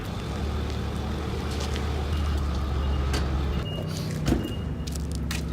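A vehicle backs up toward a trailer on a farm, its engine idling loudly and steadily while a tone beeps at intervals, and a short knock comes near the end.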